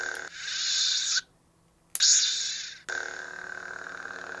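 Count Dooku toy lightsaber igniting twice, each time with a bright crackling hum that swells and fades before cutting to silence, then igniting again into a steady, fairly quiet buzzing blade hum.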